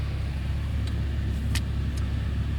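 Porsche 911 Carrera T (991.2) flat-six with six-speed manual, started in normal mode: a steady low idle rumble close by, with a few brief clicks over it and no talk.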